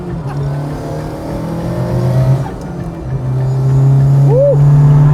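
Rear-wheel-drive Volvo car driving, a loud steady engine hum that swells toward the end, with a brief whistling tone.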